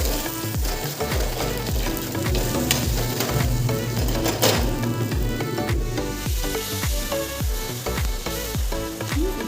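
Two beaten eggs fry as an omelette in a pan, a steady close sizzle with repeated light scraping or stirring ticks throughout and no voices.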